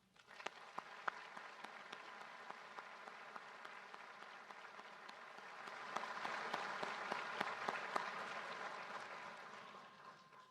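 An audience at the FBI National Academy Session 293 graduation ceremony applauds. A scattered, fairly distant clapping swells into fuller, sustained applause partway through and then tapers off.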